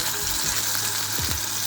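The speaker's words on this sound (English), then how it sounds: "I'm going to sear it the right round, all the corners, all the edges" Tenderloin steak searing in a hot pan, a steady broadband sizzle that holds loud and even throughout with a couple of brief low thumps near the end.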